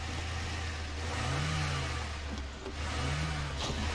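Hummer truck engine in the Snowrunner video game, a steady low engine drone with two gentle rising and falling revs, loud and continuous throughout.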